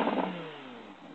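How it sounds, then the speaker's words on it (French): An Audi R8 V10 Spyder's engine revs hard, then the pitch slides downward as it settles, loud and close, heard alone without talk. "je vais en faire une dernière fois pour vous faire écouter le bruit du V10"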